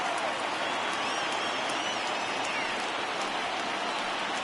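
Rain falls steadily across a ballpark during a playoff game in MLB The Show 20, a dense, even wash of noise with no breaks. A faint crowd murmur sits underneath.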